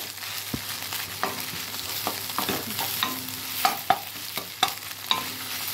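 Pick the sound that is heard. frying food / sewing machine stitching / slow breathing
frying food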